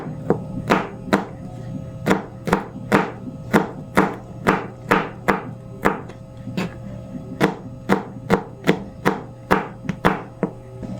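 A knife chops peeled garlic on a board in a home kitchen in a brisk, even rhythm of about twenty sharp, close knocks.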